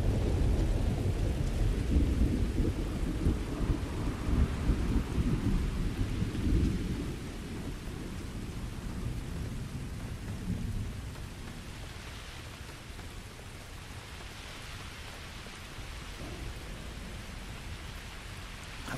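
Thunder rumbles low and heavy over steady rain in a Starfield game storm, loudest in the first seven seconds before settling into a softer, continuous downpour with no voices.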